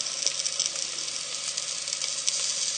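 Potato pieces sizzle steadily in a hot frying pan as they are stirred and moved around, a continuous bright crackling hiss close by with no talking.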